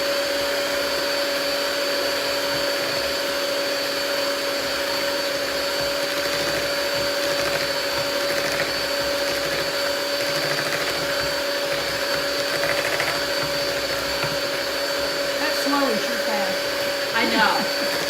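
An electric mixer mixing sugar cookie dough for Amish sugar cookies, a steady loud whir with a constant tone throughout, with faint scraping near the end.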